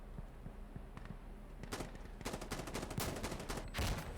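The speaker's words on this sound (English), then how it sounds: "So we get to shoot these two guys." M24 sniper rifle fire in the shooter game Insurgency Sandstorm comes as several sharp cracks, irregularly spaced and growing denser toward the end, over a steady low game-ambience rumble, with no talking.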